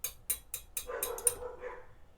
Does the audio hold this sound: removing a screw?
no